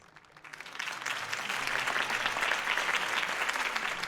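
Sustained applause from a large political rally crowd in Gotham City in the video game Batman: The Telltale Series, a dense steady roar of clapping that swells in after a quieter start and holds at full strength with no speech on top.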